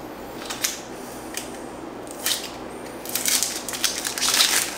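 A kitchen knife slices and peels an onion on a board, making soft crunching cuts and papery crackles in a few separate bursts, then a denser run of rustling at the end.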